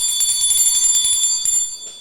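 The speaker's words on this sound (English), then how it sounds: "Let me get that bell real quick." A hand bell rung on a podcast desk gives a string of bright, rapid metallic rings with shimmering overtones that carry on steadily, then a last strike before the tone fades out.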